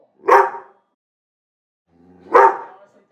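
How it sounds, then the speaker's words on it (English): Two single dog barks ring out loud and close, about two seconds apart, with silence between them. "why the heck won't the dog stop barking?"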